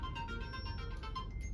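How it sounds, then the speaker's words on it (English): A mobile phone ringing with an incoming call, a steady repeating electronic ringtone melody sounding alone and fairly faint for the whole moment. "people calling me on my phone"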